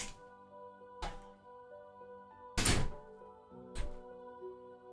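A bedroom door is shut during a home tabletop gaming session, with a few distinct thumps against a quiet hum, the loudest one in the middle of the clip.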